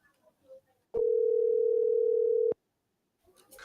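A cartoon telephone sounding one long, steady electronic tone that holds for about a second and a half, loud and clean, with near silence before it and brief rustling after.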